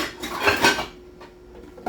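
Metal pot lid set onto a pan of simmering beef stroganoff-style stew, a clattering clink up close followed by a fading ring and a small knock near the end.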